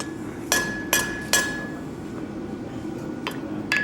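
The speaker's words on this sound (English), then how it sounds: "I'm actually lifting the metal up a little bit as I'm hammering on an angle to really get that wedge started" Hammer striking hot metal on an anvil at a blacksmithing demonstration, three sharp ringing blows about half a second apart, then a pause and two lighter taps at the end.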